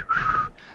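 An ancient whistle on a bridge, heard as a single clear, steady tone lasting under half a second, then a fainter breathy trailing sound.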